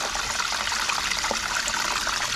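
An internal aquarium power filter turned up to high flow pushes a steady, close rush of churning water, a continuous bubbling splash with no pauses.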